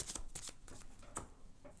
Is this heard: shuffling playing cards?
yes